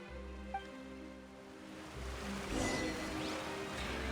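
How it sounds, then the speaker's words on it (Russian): Flowing water from a babbling brook in the Genshin Impact video game, a steady wash of gurgling and rushing water that swells louder midway, with faint game music in the background and no voices. "Ручей лепечет."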